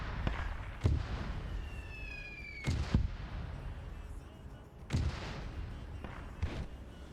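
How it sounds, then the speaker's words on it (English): Flare rounds fire in the military video game Arma, heard as distant, muffled thumps at a few-second intervals, one carrying a brief rising whistle. "They've been putting flare rounds over him."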